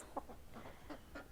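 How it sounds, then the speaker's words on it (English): Loomis, a favourite free-ranging hen, gives a few soft, quiet clucks up close at low volume. "My bestest chicken I ever loved."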